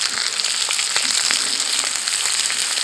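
Stuffed chicken with haggis fries in a little oil in a cast iron skillet on a Firebox stove, giving a steady, close sizzle peppered with small pops and crackles throughout, with no one talking.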